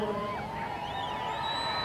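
A stadium crowd in Columbus at a U.S. Women's National Team soccer match against New Zealand, a steady roar of cheering with rising whoops and whistles, dense and continuous over a voice speaking.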